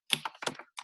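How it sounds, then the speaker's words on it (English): A website URL tapped out on a computer keyboard, a short quick burst of a few soft clicking keystrokes, close and isolated with brief pauses between them. "here's this one website URL, guys, which I'm typing in over here"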